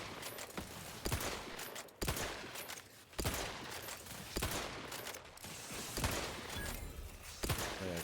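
Rapid bursts of gunfire with explosive rounds in The Outer Worlds 2 video game, loud repeated blasts and thumps spaced about a second apart, continuing throughout.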